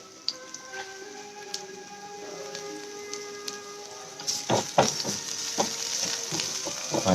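Mustard seeds and garlic crackle in hot mustard oil with sparse, quiet pops at first, then turn busier and louder with dense sizzling snaps.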